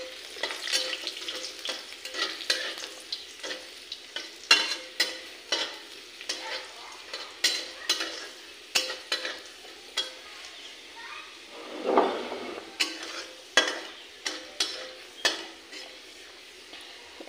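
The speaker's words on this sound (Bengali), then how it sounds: "আর এখানে নিচ্ছি কিছু রসুন, এটাকে আমি ভাজি করে নেবো একটু।" Garlic and dried chillies frying in a pan, steady soft sizzle under repeated stirring scrapes and utensil clinks against the pan, close by with no talk.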